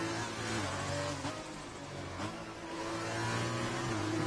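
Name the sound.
racing car engine accelerating after a spin, from F1 video game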